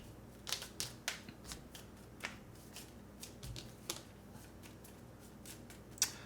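A deck of cards from the Dune Imperium board game being shuffled, with soft irregular riffles and flicks close by in a quiet room, no talking.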